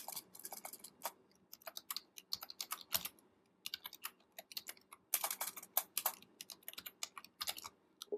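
Computer keyboard typing on its own: bursts of quick, crisp key clicks with brief pauses, moderately close and fairly quiet, no talking.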